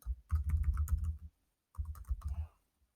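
Quick clattering keystrokes on a computer keyboard as a web address is entered, two close bursts of rapid typing separated by a short pause.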